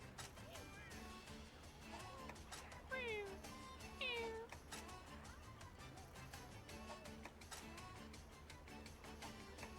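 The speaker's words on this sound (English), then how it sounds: "That's just a cat." A cat in a video game meows twice, two short rising-and-falling cries a second apart, over a busy bed of game music and sound effects.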